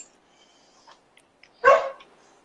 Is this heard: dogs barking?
yes